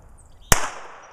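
A single Taurus TCP 380 pistol shot with Monarch ball ammo, one sharp, loud crack with a short ringing tail fading away.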